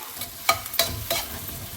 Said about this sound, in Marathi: आता ह्याला आपण छान सॉते करून घेऊया